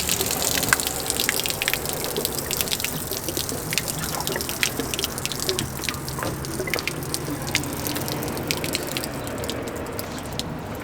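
Water splashes and drips steadily from an RV's water pump screen opening after the pump is shut off, a continuous near trickle with scattered droplets throughout.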